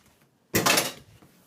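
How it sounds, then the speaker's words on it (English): A spoon scooping sour cream into a measuring cup, one short clatter of utensil against the cup, close and brief, with no talk. "I'm going to go ahead and scoop this out into my measuring cup"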